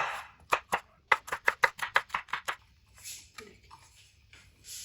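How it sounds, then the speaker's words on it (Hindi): A knife chops green chilies and other ingredients on a cutting board in a home kitchen: a quick run of about a dozen crisp, evenly spaced taps, then a pause and a few softer scraping cuts. "इसको भी उसी तरह हमने काटना है।"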